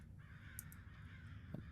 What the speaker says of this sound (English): Birds are very unnerving